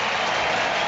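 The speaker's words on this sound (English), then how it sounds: "he gets a loud cheer, as you would expect" A crowd on Wimbledon centre court cheers and applauds as Roger Federer walks out at the London 2012 Olympics, a dense, loud, steady wash of noise with no separate voices standing out.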